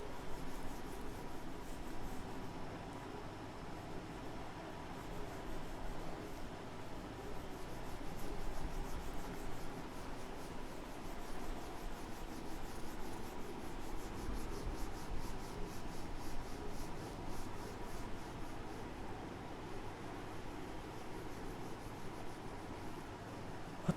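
Rubbing to erase a classroom board, a steady dry scrubbing noise that runs continuously and fairly loud throughout, with no talking.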